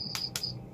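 Crickets in a quiet village near rice fields give two short, bright chirp bursts against faint background hum, close and steady.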